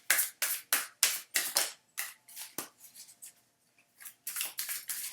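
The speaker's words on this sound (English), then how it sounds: "now I'm going to pull some clarification cards for each" Tarot cards from a Crystal Visions deck being shuffled and drawn, a run of quick crisp papery snaps and riffles in bursts with a short pause midway, close and fairly loud with no talking.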